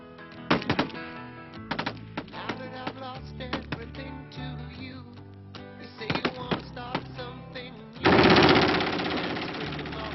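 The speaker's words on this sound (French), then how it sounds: "Les seuls jeux guerriers de cette armée tranquille restent les exercices. On tire sur des cibles." Bursts of rapid rifle and machine-gun fire crackle from army soldiers shooting at targets during an exercise, several short volleys followed by a dense sustained barrage near the end, with speech in between.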